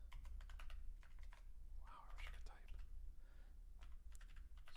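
Keystrokes from a computer keyboard while code is typed for an Arduino program in Tinkercad, a steady run of quick clicks with short pauses, faint and under low background hum, with a brief murmur of voice.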